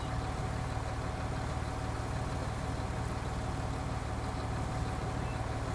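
A tractor engine idles in a farming video game, a steady low droning hum that runs unbroken and moderately quiet throughout.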